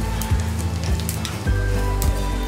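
Mustard seeds crackle and sizzle in hot ghee in a pan, with bursts of popping over a steady frying hiss, close and fairly loud.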